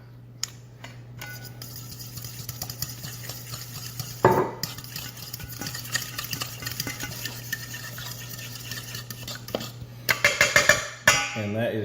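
A spoon stirring sauce with olive oil in a pan or bowl, scraping and clinking at close range with irregular taps and a few louder knocks near the end, a voice faintly present underneath.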